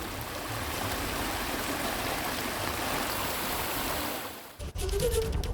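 Floodwater from the Purna River in Navsari, Gujarat, pours across a highway in a loud, continuous rushing roar, which dips briefly near the end before surging back.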